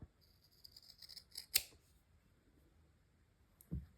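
Scissors snip through jacket fabric while notching a V at a seam, two distinct close cuts, one near the middle and one near the end, in an otherwise quiet sewing room.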